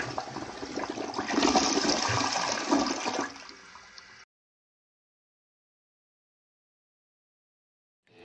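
A toilet flush plays in a radio ad for a septic service, a close, gurgling rush of water lasting about four seconds before it cuts off to silence.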